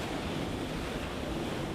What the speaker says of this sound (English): Big wave building up, that's what we want